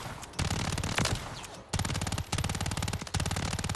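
WSP Swarm SMG firing in Modern Warfare 3, rapid automatic bursts at a very fast rate, several long strings of shots broken by brief pauses, loud and close.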